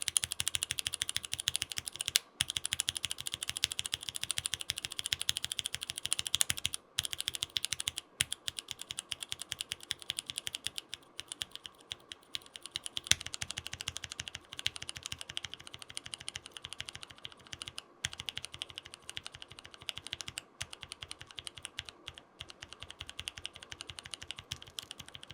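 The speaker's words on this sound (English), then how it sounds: "Here's a quick sound test of the Penguin switches." Typing test on mechanical keyboard switches from Kinetic Labs, the Penguin model, a continuous rapid run of close, crisp clacking keystrokes with a few brief pauses over about twenty-five seconds.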